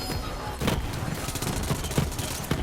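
The Kaoson, a full-auto gun in Borderlands 3, fires in rapid, dense bursts of shots with heavy low booms and crackling impacts, loud and continuous throughout.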